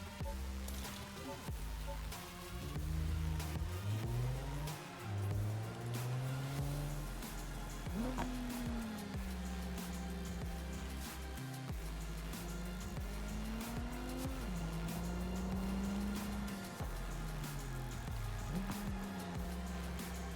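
A car engine revs hard and climbs through gears, pitch rising and falling in repeated surges, with tire squeal mixed in throughout; close and loud, no talking.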